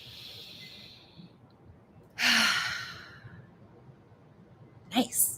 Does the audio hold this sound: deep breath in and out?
yes